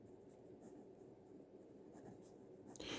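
Quiet scratching of writing, with soft, irregular strokes of a pen moving across a surface for a few seconds, close and alone.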